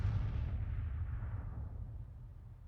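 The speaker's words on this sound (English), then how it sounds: "So our guns are firing." Boom of artillery guns firing in Grand Tactician: The Civil War, a heavy low rumble that rolls out and slowly fades over a few seconds.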